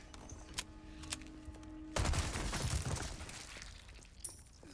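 Video game gunfire in Resident Evil 4 erupts as a dense burst of rapid shots with crackling impacts, loud and close, preceded by quieter scattered pops and clicks.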